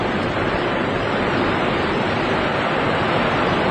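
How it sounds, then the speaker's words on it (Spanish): Sea waves make a continuous rushing roar, a dense steady wash of surf without clear breaks between swells and with no voices. "Ese es el ruido del mar"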